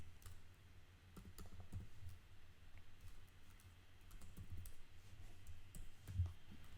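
Light, quick clicks tap out one after another at close range, faint and dry against a quiet room hum, with no voices over them.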